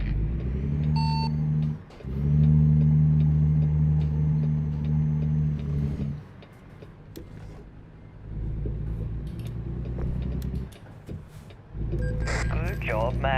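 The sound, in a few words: truck engine driving in a video game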